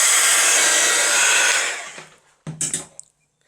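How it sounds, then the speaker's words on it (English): A hair dryer used as a heat tool to dry craft paint blows loudly and steadily at close range, then winds down and shuts off, followed by a few brief clunks and handling knocks. "I'm just going to quickly dry some of this because some of that needs a bit of extra coverage"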